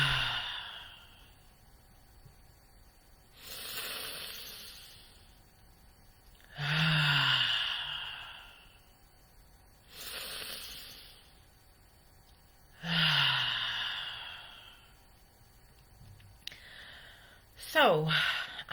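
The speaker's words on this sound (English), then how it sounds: "Let us take our 3 deep breaths together and dive right in." Three slow, deep breaths taken in a calm guided moment, each a long airy inhale followed by a softer exhale, spaced several seconds apart and close to the microphone, with a short sound at the very end.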